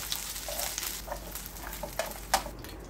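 Pieces of chicken frying in butter and garlic in a pan crackle and sizzle steadily, with soft scraping stirs and occasional louder pops, close up and without talk.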